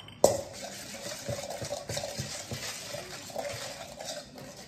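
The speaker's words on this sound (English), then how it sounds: "give it a little stir" Stirring warm water and yeast in a bowl for challah dough, a soft swishing with faint clinks of a utensil against the bowl, close and steady for several seconds with no talk.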